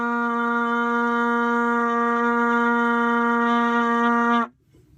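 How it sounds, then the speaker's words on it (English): B-flat trumpet sounding an open C with no valves pressed: one steady, clear sustained tone held for over four seconds, then stopping cleanly, alone. "So when playing a C, you do not need to press any of the valves down."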